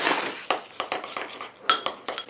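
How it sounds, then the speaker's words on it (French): Chocolate is grated by hand in a kitchen, with a run of quick scraping strokes and light metallic clinks of the grater, close and steady, no voices. "je n'ai toujours pas acheté de copeaux de chocolat, donc je continue de râper"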